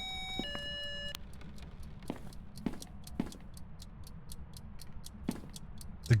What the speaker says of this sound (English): The ghost started the egg timer.